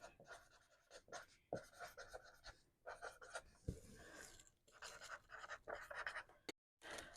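Pen or pencil writing by hand while annotating a book, soft scratchy strokes in short bursts with brief pauses, close and quiet, no talking.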